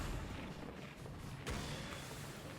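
Tinker's laser ability firing in a Dota 2 match, a short bright crack at mid-clip standing out over dense game noise and rumbling booms.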